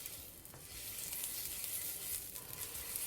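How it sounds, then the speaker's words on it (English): Sliced ginger hitting hot oil in a wok gives a steady, close sizzle with a crackling hiss. It holds for the full few seconds with no voices. "Fry them until we can really smell the beautiful fragrance coming from the ginger, and brown the ginger a little bit."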